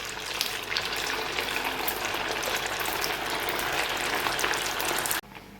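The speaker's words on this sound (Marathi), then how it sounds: "बाकी वडे आता आपण तळून घेऊया. हाय फ्लेमवरतीच आपल्याला हे तळायचं आहे." Vadas deep-frying in hot oil over a high flame, giving a steady, loud, dense sizzle and crackle that runs unbroken for about five seconds before cutting off sharply.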